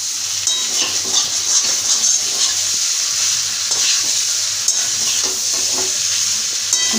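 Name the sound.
stirring cauliflower with spice paste in a pan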